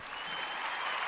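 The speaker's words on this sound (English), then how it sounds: "Let me clap for myself for that one." A man claps his own hands in a quick continuous patter for about a second, close and fairly soft, with no voices over it.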